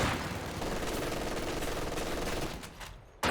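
Sniper and surrounding gunfire in the war game Company of Heroes 2, a loud dense wash of rattling shots and bursts that stays steady, then drops out abruptly before one final crack.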